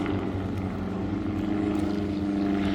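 Several Druine D.31 Turbulent light aircraft of a formation display team fly at an airshow, their propeller engine drone steady and continuous at moderate distance, with no voices.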